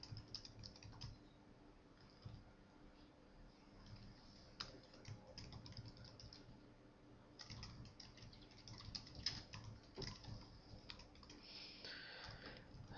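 Keys on a computer keyboard clatter in quick irregular bursts with short pauses, close and fairly quiet, with no voices.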